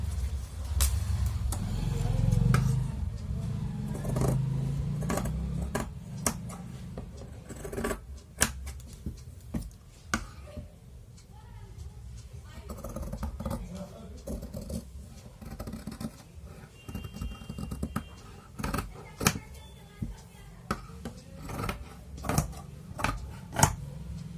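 Scissors cutting blouse fabric, a long run of crisp snipping and sliding blade sounds with fabric rustle, close and steady, with some soft talk in the background.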